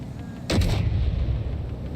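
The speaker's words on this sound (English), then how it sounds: "Firing main cannon." A tank's main cannon fires in a video game, one heavy, booming blast with a crackling burst that settles into a low, lingering rumble.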